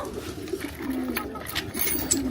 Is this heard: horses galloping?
no